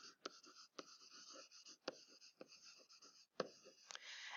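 A pen writing out a definition by hand: steady scratching strokes with sharp taps as the pen touches down, close and quiet, without speech.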